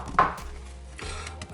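A knife cuts apple flesh into pieces for apple pork, giving a few distinct chopping knocks against a board, the sharpest early on and softer strikes later, close and alone.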